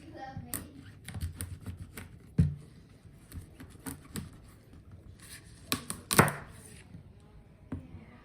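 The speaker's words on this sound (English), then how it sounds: "Now when you cut up squash, especially the winter squash" A sharp knife chops through winter squash on a cutting board, giving scattered thuds and clacks at an uneven pace with a few louder strikes. Faint kitchen background sits underneath.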